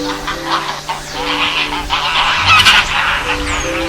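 Ducks honking as they cross to the other bank of a river along a pilgrims' walking route, a noisy overlapping clamor of calls with a louder burst near the middle, set against steady outdoor background.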